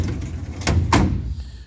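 A workshop drawer full of bearings slides open with a short scrape and two sharp knocks, close by against a low background hum.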